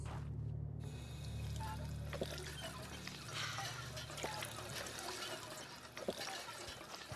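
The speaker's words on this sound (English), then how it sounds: "now we can go and have a drink of water from the pump again" Water splashes and trickles from a water pump in the video game Fallout 4, a steady wet pour lasting several seconds with small drips and splashes, fairly quiet and heard alone.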